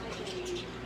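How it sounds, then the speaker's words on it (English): Chippy, a pet bird, gives a short cooing call close by over a steady background hum. "He's a rude bird."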